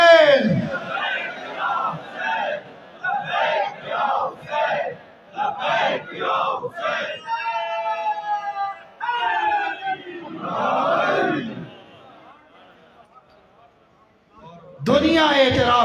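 A large crowd at a religious jalsa in Multan loudly chants "Labbaik ya Hussain" in repeated, rhythmic roaring bursts, mixed with an amplified voice calling out between the chants.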